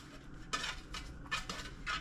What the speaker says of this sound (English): I'm going to butter these pans